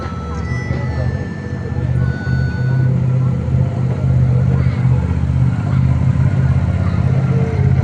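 A heavy six-wheeled military all-terrain vehicle rolls past in a Republic Day parade on Red Road, its engine a loud, steady low rumble under a commentator's voice.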